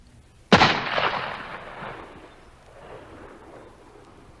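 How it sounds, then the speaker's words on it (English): A single loud gunshot cracks sharply and rolls into a long fading echo, set in a Civil War-era story narration. "Carter Drews was calm as he pulled the trigger of his gun."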